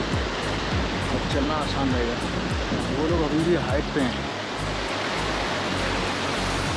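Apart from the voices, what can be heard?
fast-flowing mountain river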